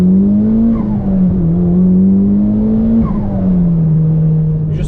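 A Mitsubishi Lancer Evo 5 turbo engine drones steadily while driving. Its pitch rises and falls gently with throttle changes, it stays loud and continuous throughout, and no voices are heard.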